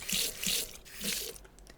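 Minecraft water is scooped from a furniture-mod basin with a bucket, producing two or three short watery sloshing splashes in quick succession, fairly quiet and without speech.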